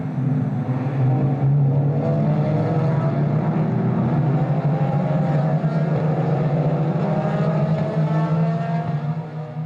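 Race cars during a qualifying race at the Open de Portugal de Velocidade 2019, a loud, sustained engine drone that holds steady for the whole stretch, with no voices.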